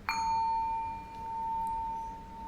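A miniature chakra meditation bowl struck once on its side, giving a bright metallic ding that rings on as a steady, slowly pulsing tone, fairly quiet and alone.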